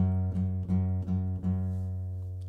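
A single low guitar note, played on the second fret of the low E string, is plucked and rings steadily, with a few faint taps or string noises at the start before it fades gently.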